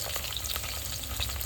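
Garlic hits hot oil in a pan for South Indian millet puliyogare, giving a steady, dense sizzle with small crackling pops throughout and no voices.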